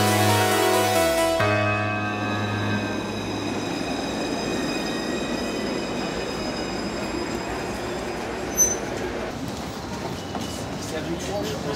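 A tram runs steadily through a city, its wheels squealing and rumbling along the rails for several seconds, with a sharp clunk near the end and a continuous low ride noise.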